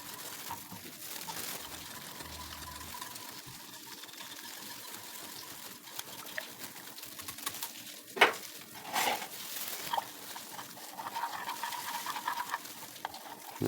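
An electric mixer churns a thickening starch-and-milk pudding mixture with sweetened condensed milk and yogurt, a steady mid-level whir with scraping and a few sharp clinks against the bowl near the end.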